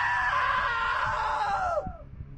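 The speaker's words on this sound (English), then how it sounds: "Now that was a great scream" A woman's long, loud, high-pitched scream holds steady, then slides downward and cuts off abruptly, followed by a brief low thud and quiet.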